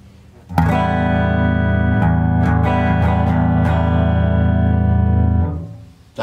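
Loud sustained electric guitar chords ring out through an Eminence 15-inch 7365 speaker cabinet played at full volume without distortion, a few accented strums over a steady wall of sound that cuts off near the end.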